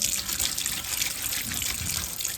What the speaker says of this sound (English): So now I'm just going to put some cold water in my sink